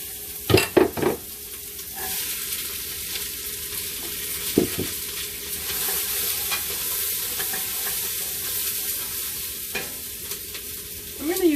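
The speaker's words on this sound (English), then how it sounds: "I'm going to add the onion, carrots, and celery and saute it for 6 to 7 minutes." Onion, carrots and celery sautéing in a generous splash of oil in a pan, with a steady soft sizzle throughout and a few louder stirring scrapes near the start and end, close and without talk.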